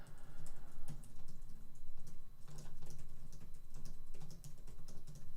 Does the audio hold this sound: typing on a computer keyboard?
yes